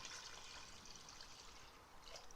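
Four cups of hot water poured into a pot for pho in a Ninja Foodi or Instant Pot, heard as a faint, steady trickling splash lasting a couple of seconds with no talk.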